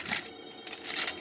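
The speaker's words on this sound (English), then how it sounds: "sorry about the phone, it goes off at weird times." Mobile phone ringing inside a Sprouts Farmers Market, giving a bright, buzzy ring that runs the whole short moment over shop background noise, near and fairly loud, with no talking.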